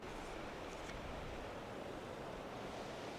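Sea water rushing and swirling around a rock, with white water churning past it: a steady, close, continuous broadband wash of surf with some wind noise and no distinct breaks.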